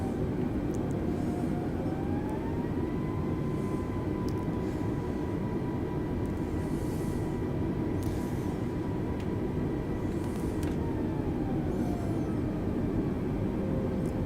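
Airbus A320 jet engines during a short takeoff from Gibraltar in Microsoft Flight Simulator, a steady loud whine and rumble with pitch rising and later falling.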